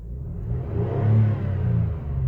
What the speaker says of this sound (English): Now I'm going to go ahead and rev the engine.